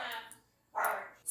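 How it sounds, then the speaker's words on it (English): A dog barks twice in quick succession indoors, with sharp, fairly close barks, and a voice talks around them. "it's also my dog barking his head off"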